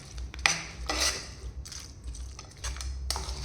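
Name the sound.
stirring and mixing roti vegetable lachha in a pan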